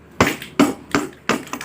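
Hammer blows driving a size 14 socket onto a part of a Honda Revo Absolute motorcycle engine during assembly: four sharp, close metallic knocks spaced roughly evenly, each with a short ringing tail.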